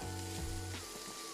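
Smoked bacon sizzles in a pot as the base for collard greens, a steady crackling fry with a low tonal hum underneath, no talking.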